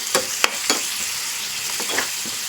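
A spoon stirring tomato paste gravy for paneer in a pan over the heat, with soft scraping strokes and a steady sizzle and bubble throughout.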